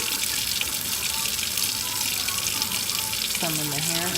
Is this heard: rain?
no